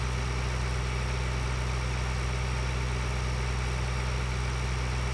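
Steady tractor engine idling in a farming video game, a constant low drone with even hum and no talk over it.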